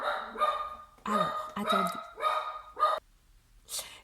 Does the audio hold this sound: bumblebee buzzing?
no